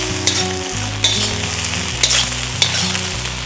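Shrimp fry in a hot pot for fried rice, giving a loud, steady sizzle with sharp stirring clacks every second or so. A low, droning background tone runs underneath.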